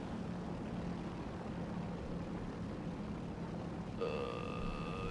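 A steady airplane engine drones in the video game War Thunder, a constant mid-level hum and rush throughout, joined near the end by a thin tonal whine with harmonics over the same engine noise.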